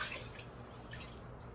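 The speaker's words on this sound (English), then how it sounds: "After I shake it off in that water like that, get off a little bit more of that debris." Aquarium filter floss being shaken off in a container of water, soft close dripping and sloshing splashes, quiet and continuous without speech.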